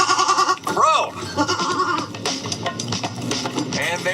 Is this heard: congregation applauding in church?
no